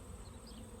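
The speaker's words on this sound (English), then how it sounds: "as I'm standing here with the bees just fluttering and buzzing and busy" Bees buzzing outdoors, a faint, steady hum drifting in the background with no voices over it.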